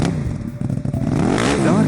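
A magical super bike's engine revs and roars as it speeds off, rising in pitch with clattering bursts, loud and close, with some voice-like sound mixed in.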